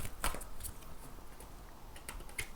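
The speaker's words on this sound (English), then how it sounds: "I'm just going to shuffle these tarot cards" Tarot cards being shuffled by hand make soft, intermittent riffling snaps and papery ticks, close and fairly quiet, in a few short bursts.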